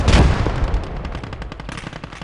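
Dense gunfire from the World War II strategy game Gates of Hell: Red Star Rising, a loud opening burst followed by rapid machine-gun rattling that continues steadily with no voices.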